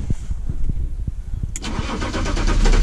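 A BMW E36 325 tds diesel engine cranks with rhythmic starter thumps, then catches and settles into a loud, clattering idle, close by, with no one talking.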